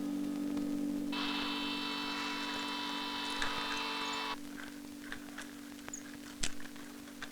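A motorized TV mount driven by a master control in a film scene gives a steady mechanical whir for about three seconds, steady and fairly near over a constant electrical hum, followed by faint scattered clicks.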